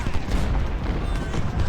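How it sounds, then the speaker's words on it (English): Dense, continuous battle noise from the Ultimate General: Civil War game at Gettysburg: overlapping musket volleys and low booms merge into a loud, rumbling roar without a break. "They've been shooting at somebody."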